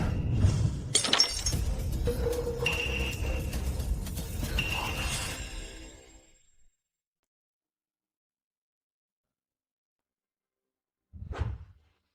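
Something smashes to pieces, a loud shattering crash of breaking glass with scattering clinks and debris that spreads for several seconds. It then fades into silence, and a short thud follows near the end.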